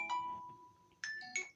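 A phone rings indoors with a melodic electronic ringtone, a short chime pattern followed by two brighter bursts, moderately loud and close, with no talk over it.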